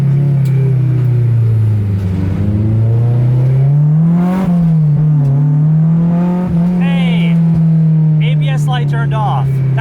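A Spoon S2000 on a late-night test drive, its engine droning in a steady low hum that rises and falls slightly with speed, with brief chirps and squeaks over the top and voices talking in the cabin.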